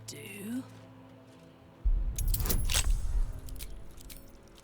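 Keys jangling in the video game Baldur's Gate 3, a bright metallic rattle that begins partway in and stays loud and close for a couple of seconds, with a voice speaking briefly before it starts.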